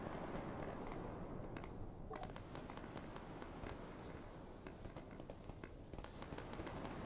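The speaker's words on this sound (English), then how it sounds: "there's some shooting going on" Steady rattle of distant gunfire in the military shooter Arma 3, dense crackling bursts and scattered sharp reports running continuously over a constant background rumble.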